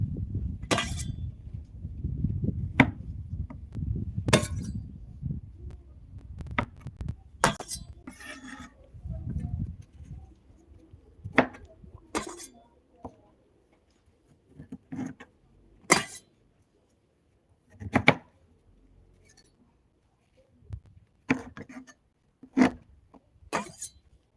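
A knife trimming the seeds from a tomato on a cutting board: sharp isolated clicks and taps of the blade, a dozen or so at irregular intervals, with soft rubbing and handling noise early on, close and fairly quiet.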